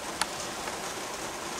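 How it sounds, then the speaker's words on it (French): Rain falling steadily outside, a soft even hiss with a couple of faint drips, no talk. "en plus on est rythmé par la pluie"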